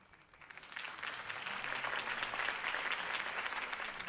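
Crowd applause after a mayoral campaign speech in the Telltale Batman video game, swelling from quiet to a sustained, dense clapping that holds steady to the end.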